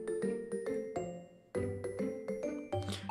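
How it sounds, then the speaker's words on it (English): A school bell chimes in Pokemon Super Mystery Dungeon, a run of bright, evenly spaced tones with a short pause partway through, close and clear and heard alone. "Alright, class, that's the bell."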